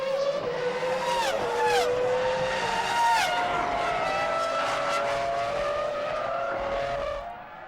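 Formula 1 race cars from the 2003 season roar past with rising and falling engine pitch, and Ralf Schumacher's car slides out of the pit lane with a brief tyre squeal amid continuous loud engine noise.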